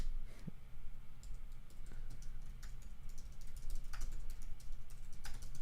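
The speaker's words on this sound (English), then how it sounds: "I'm going to type this." Keys clatter on a computer keyboard in quick irregular bursts, with a few louder strokes standing out over a steady low hum and no one talking.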